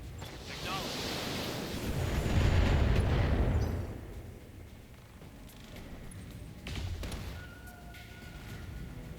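Mech weapons in the game Battletech fire in a heavy rumbling barrage that swells to a roaring explosion, then fades to lower thuds and scattered impacts, with some muffled radio-style voice chatter.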